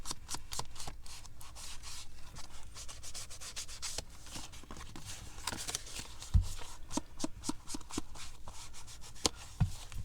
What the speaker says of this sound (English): to do my edges, I just fold it in half